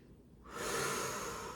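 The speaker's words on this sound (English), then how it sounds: "Take a couple of deep breaths in" A deep breath is drawn in during a wall Pilates stretch, a close, breathy rush that starts quietly and swells into a long sustained inhale.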